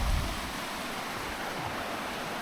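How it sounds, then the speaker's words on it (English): Steady broadband rush of river water flowing beneath a bridge, a continuous even wash with no voices and a slightly louder burst at the very start. "The water flowing."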